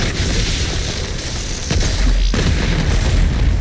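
Grenade blowing up in DOOM Eternal amid constant loud game combat noise, a deep booming burst with a heavy low rumble near the middle, dense and continuous throughout.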